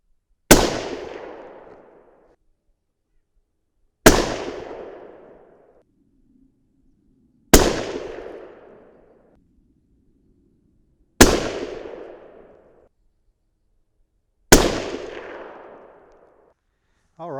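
Five loud, sharp rifle reports from a 300 Win Mag firing 220 grain Sierra Match King bullets over 73 grains of H1000, spaced roughly three seconds apart, each with a long decaying echo, no talking between shots.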